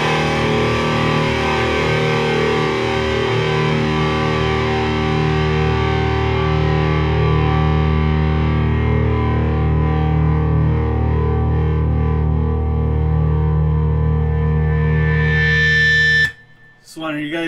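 An Epiphone Les Paul fitted with a Seymour Duncan SH-6B Distortion humbucker, tuned to E flat, rings out one long, loud distorted low chord that sustains for about sixteen seconds before being cut off, followed by a brief scrape.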